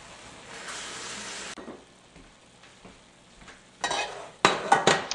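Black bean sauce with slurry is stirred in a wok over a soft sizzle, with quiet scraping that grows into louder clattering utensil strokes near the end.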